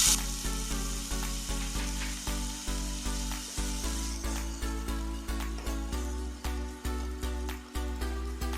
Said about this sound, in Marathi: आता आपण हे बटाटे बारीक चिरले आहेत ते फ्राय करून घेऊ।